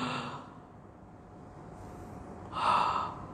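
A human voice imitates the gasping breath of a dying person: two short, breathy gasps, near and fairly soft, separated by a quiet pause, with the second one louder.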